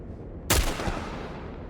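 A single sharp gunshot cracks out in the video game The Last of Us Remastered, loud and close, followed by a fainter second report and a decaying echo over low background rumble.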